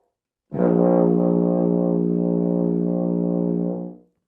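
A single sustained low tuba note, an open B flat played with no valves pressed, steady and loud for about three and a half seconds, rich in harmonics, then released cleanly.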